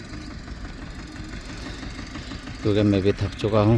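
A tractor engine idling nearby with a low steady chug, rising to a louder, rougher mechanical rumble near the end while someone talks over it.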